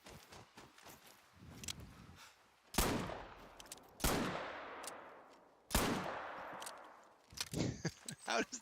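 Three loud, sharp gunshots from a hunting rifle in theHunter: Call of the Wild, each followed by a long decaying echo, with softer footsteps and movement sounds before them.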